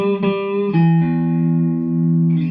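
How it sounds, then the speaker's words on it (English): An electric guitar plays a couple of notes, then a low open string rings out and sustains steadily, close and unaccompanied, fading slightly. "Then you can ring out the low E string"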